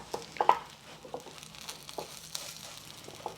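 Pork cooks in a hot pan, giving a faint, low sizzle broken by a few soft clicks and scrapes as the meat is turned over.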